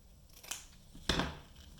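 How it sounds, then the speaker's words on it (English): Scissors cutting ribbon for a bow: two quick, crisp snips about half a second apart, close and fairly quiet, with no talking. "Cut your ribbon underneath."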